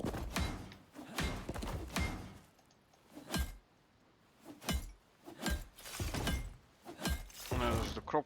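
A hammer repeatedly strikes a glass wall in the Icarus survival game, a run of about ten sharp, bright shattering impacts in uneven rhythm, fairly loud and close, with low thuds under some hits.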